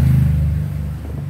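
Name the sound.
bored-up Honda Supra X 125 motorcycle engine revving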